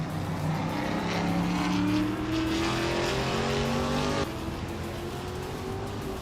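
Racing cars in a video game, including a 2008 Lada 110, roar past with rising and falling engine whine, several motors layered together and loud, the pitch climbing steadily before one drops away abruptly.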